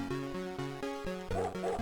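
A coyote in the Amiga game Fire And Ice barks just like a dog, a quick run of about seven short, evenly spaced yips over a steady electronic game tune.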